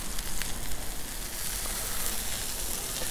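Steaks sear on a 36-inch Blackstone griddle with a steady, dense sizzle and crackle of hot fat, close and continuous with no talking.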